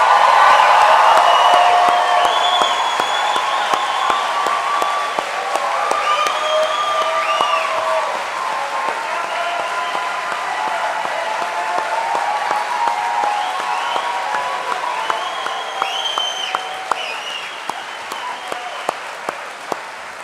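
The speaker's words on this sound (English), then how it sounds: "let's make some noise in putting our hands together for the Cape Henry Collegiate class of 2023" Loud, sustained applause from a large audience at the Cape Henry Collegiate class of 2023 commencement ceremony, dense clapping with some cheering that swells at the start and carries on steadily, easing slightly toward the end.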